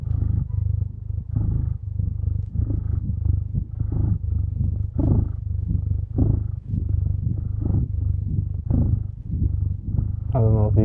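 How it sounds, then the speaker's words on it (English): Pet cat purring close to the listener, a steady low rhythmic rumble rising and falling with each breath, with someone talking softly over it. "I don't know if you can hear the sweet sounds of ASMR cat purring."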